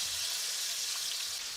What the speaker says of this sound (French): Faites dorer de deux côtés les morceaux de fruits trempés dans la pâte préalablement préparée.